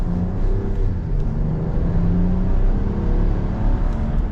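A 2025 RAM 1500 Laramie Crew Cab 4x4 with a twin-turbo inline-six pulls away, giving a steady, loud low rumble and engine whir heard from close by, with no talking.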